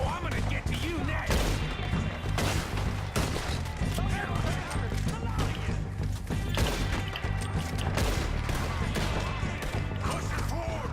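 Rifle gunfire in Red Dead Redemption 2: repeated sharp shots and impacts in a busy firefight, with mechanical clicks and crashes, loud and continuous, with shouting voices mixed in.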